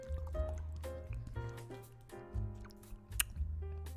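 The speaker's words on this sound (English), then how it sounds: "Let me drink a little bit of water." Water being drunk in close, wet gulps and squishy swallowing sounds with a few small drips, steady over a few seconds with no talking.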